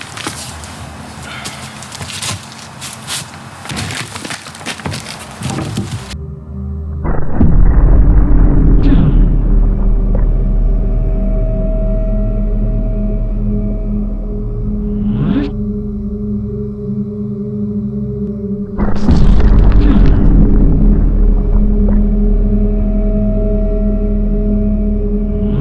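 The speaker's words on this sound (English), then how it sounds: "today in slow motion I'm going to be smashing apples" A sledgehammer smashes apples, with two or three heavy booming impacts spaced several seconds apart, each followed by a sustained low rumbling roar that stays loud between hits.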